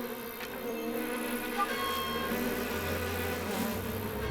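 Continuous insect-like buzzing from cartoon spider bee creatures, a steady droning hum with faint higher whining tones layered over it, sustained and fairly close with no speech.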